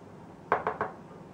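Three quick clinks and knocks of a big mixing bowl being set down and handled on a kitchen counter while making honey wheat bread dough, fairly close and alone with no talk.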